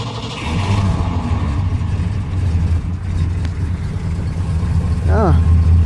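A 1982 Ford Mustang GT with a four-speed runs as a loud, close engine rumble that swells with revs, while someone talks over it throughout.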